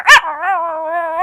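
A dog lets out one sharp, loud bark, then a long drawn-out tonal whine or howl that wavers slightly, close and with no talk over it.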